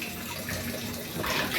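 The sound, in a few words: water flowing into a rooftop water tank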